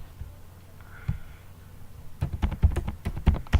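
Code being typed on a computer keyboard, with sparse, isolated key taps at first, then a quick burst of rapid, fairly close clacking keystrokes with no talking.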